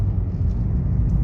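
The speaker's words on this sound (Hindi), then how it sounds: "अब देखो गाड़ी की आवाज़ कितनी ख़राब हो रही है" Manual car engine straining in too low a gear during a driving lesson, not yet shifted into third: a steady, heavy low drone close by, uniform and unbroken for about a second, no voices.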